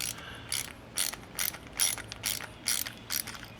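Ratchet tightening a 1/2 inch bolt on a Toro lawnmower, a close series of about eight rhythmic clicking bursts, each a quick ratcheting sweep, repeating at a steady pace.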